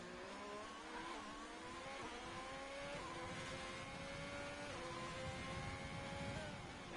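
Race car engine from a racing video game at a Brazil circuit, lapping alone on track: a steady, loud engine note climbing through rising revs and gear changes across the whole stretch, with no talk.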